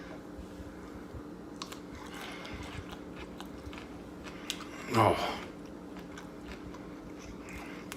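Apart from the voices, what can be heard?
chewing crunchy spiced roasted carrots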